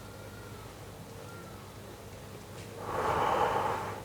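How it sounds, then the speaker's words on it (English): A single deep breath drawn in and let out close by, a soft airy rush swelling near the end over a low steady hum. "take a deep breath"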